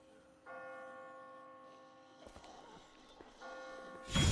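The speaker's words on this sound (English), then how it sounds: "I just got spooked by those bells" Church bells toll loud and near in The Walking Dead: Season One Episode 4 game, two sustained ringing peals with a noisy, rustling pause between them, ending in a sudden loud burst.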